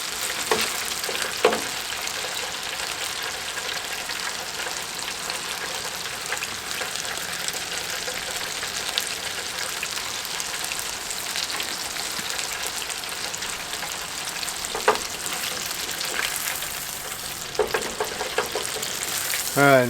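Walleye fillets deep frying in hot oil give a steady, dense crackling sizzle that holds at an even level throughout, with a few louder pops and no talking.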